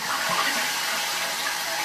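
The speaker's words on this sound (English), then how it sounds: "why that was not that powerful of a flush" Japanese toilet flushing, its tank refilling through a hand-rinse tap on top, a steady close rush of running water lasting throughout.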